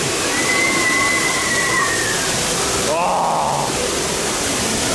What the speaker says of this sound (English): it's got the steepest drop on any water ride in the world